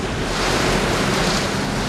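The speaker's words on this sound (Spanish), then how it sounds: "El agua estalla, traspasando los muros de los diques y ruge a través de la ciudad" Floodwater roars through New Orleans after the levees break, a loud, continuous broadband rush of churning water with no break, heard alone.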